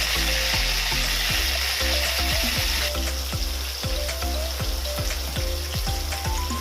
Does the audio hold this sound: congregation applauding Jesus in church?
no